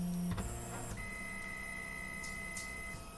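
A CNC milling machine slowly homing its axes: steady stepper-motor whine with tonal hums that shift and stop, a soft click or two, close and alone without voices.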